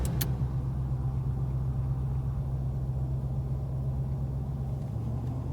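Heard from inside, a 1980 Pontiac Trans Am Bandit Special Edition accelerates gently at about 30 mph, a steady low engine rumble that holds nearly even throughout with no voices.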